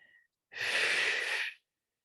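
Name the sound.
pranayama breathing, forceful exhale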